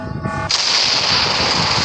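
A loud explosion bursts in the Roblox game Ophelia, a sudden blast that cuts off a tonal hum and gives way to sustained rumbling and crackling noise.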